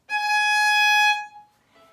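A single sustained A-flat bowed on a violin's E string rings clear and bright, holding steady for about a second before fading away, played alone.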